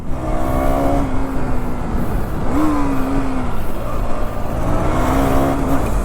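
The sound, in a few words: KTM Duke 390 motorcycle engine running after starting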